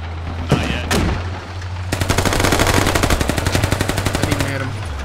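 Gunfire aimed at a building in a multiplayer military shooter game: two loud single shots, then a sustained rapid burst of automatic fire with evenly spaced cracks lasting several seconds, close and dominant.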